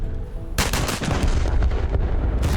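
Battleship guns fire in the War Thunder naval battle around the USS Texas (BB-35), a sudden loud blast followed by rumbling reports and further shots over a constant low engine drone.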